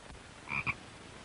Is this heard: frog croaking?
yes